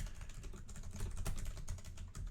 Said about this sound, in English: I'm just typing a few bullet points in here.